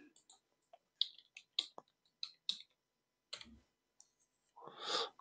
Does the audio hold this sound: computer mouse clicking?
yes